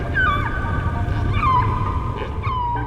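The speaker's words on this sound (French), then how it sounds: "Beaucoup d'espèces attirent les femelles en chantant, mais je trouve que c'est les baleines qui le font le mieux." Whale song underwater, with long sliding moaning tones that rise and fall repeatedly over a dense low rumbling wash of ocean noise, close and continuous, no voices.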